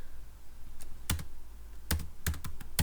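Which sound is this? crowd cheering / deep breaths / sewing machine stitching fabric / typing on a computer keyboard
typing on a computer keyboard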